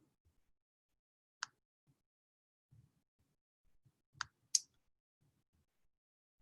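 A computer mouse clicks on a web page, a few sharp isolated clicks spaced apart over near-silence with faint soft handling noises between them.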